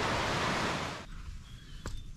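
Sea waves wash up a beach on the French coast as the tide comes in. A loud, broad surging hiss fades after about a second into a softer lapping rush.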